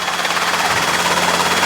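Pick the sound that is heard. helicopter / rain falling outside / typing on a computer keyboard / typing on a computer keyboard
helicopter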